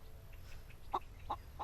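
A chicken clucks in the game Solarpunk, a few short soft clucks spaced apart over a quiet background.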